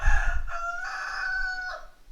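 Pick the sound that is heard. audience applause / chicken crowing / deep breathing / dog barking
chicken crowing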